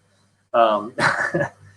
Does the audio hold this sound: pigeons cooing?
no